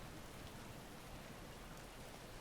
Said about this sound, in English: Instead, it's just rainy.